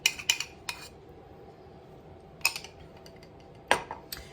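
A measuring cup knocks and clinks against dishes and utensils while olive oil is added for sourdough crackers, with a few sharp separate clatters spread through a quiet kitchen.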